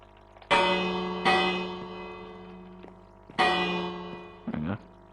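A bell in Minecraft is struck three times, each clear metallic clang ringing out and slowly decaying, with a short softer knock near the end.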